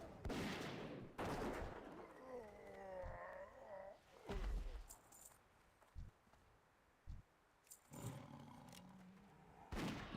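Gunfire from the online role-playing game World of Warcraft Classic: scattered sharp shots and bursts, some loud and close, others thinner, separated by short gaps over a low game background with brief clattering impacts.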